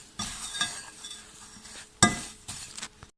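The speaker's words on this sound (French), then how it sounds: "je mélange vraiment toutes les poudres ensemble. Voilà, je mélange à la main" Carp bait powders mixed together by hand in a bowl: quiet scraping and stirring rustles with a few sharper clinks and bursts, uneven in rhythm, close by.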